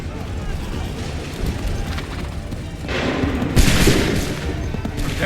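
Massed musket volleys crash in the Assassin's Creed III battle, a dense rolling roar of gunfire with sharp bursts late on, under shouted battlefield commands.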